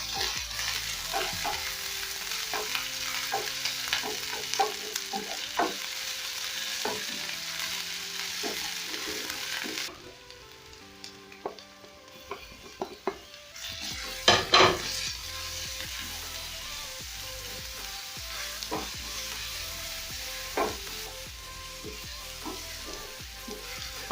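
Onions, ginger and garlic sizzle and fry in a pot for pilau, a steady close crackle broken by clinks and scrapes of a spoon stirring, with a brief quieter lull midway.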